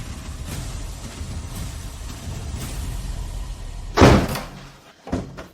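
A door is banged hard once, a loud thud standing out from a steady background rumble, followed a moment later by a second, softer knock.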